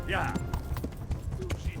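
A horse gallops in Kingdom Come: Deliverance, the medieval role-playing game, with quick steady hoofbeats thudding close by under continuous talk.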